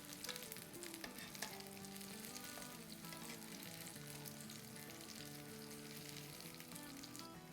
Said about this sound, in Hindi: इसको हम पलट पलट के उलट पुलट के तल लेते हैं